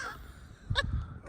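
A crow near a lake lets out one short, harsh caw, fairly close and clear against a quiet background.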